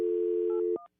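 A steady telephone dial tone hums loud and close on a just-picked-up office phone line, then cuts off into a couple of short beeps and silence.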